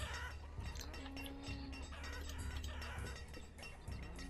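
Chickens cluck and a rooster crows faintly in the village ambience of the video game Banished, scattered bird calls layered over a low, steady background hum.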